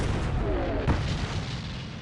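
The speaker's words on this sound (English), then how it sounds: "the British and Americans are greeted with cannon fire from the Vichy French" Cannon fire from Vichy French forces against British and American troops landing near Casablanca and Oran in North Africa during World War II, with one sharp boom amid a steady rumbling battle din.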